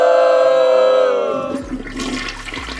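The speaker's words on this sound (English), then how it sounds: "That's a toilet flush on that one for me." A toilet flush plays as a sound effect, starting with a tonal whoosh, then turning into loud rushing, gurgling water that drains away.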